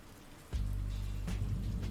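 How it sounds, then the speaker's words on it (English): Rain in the video game Red Embrace: Hollywood starts suddenly after a brief quiet moment and becomes a steady, close patter and hiss on the ground, with a deep low rumble running underneath. "Oh, it's raining!"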